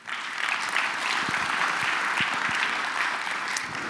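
Audience applause at a political dinner event: steady, dense clapping from a sizable crowd, sustained at even loudness throughout with no talking over it.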